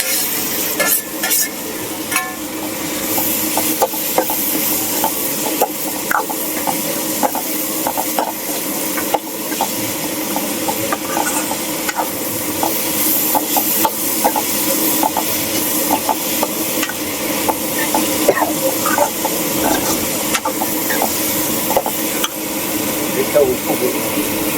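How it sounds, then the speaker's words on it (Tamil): Tomatoes frying and being stirred in hot oil for a bitter gourd curry, a continuous loud sizzle with scraping stirring strokes, while people talk over it. "அதை தக்காளி கொட்டுறாரு, நல்லா எண்ணெயில் வதங்கிடுச்சு"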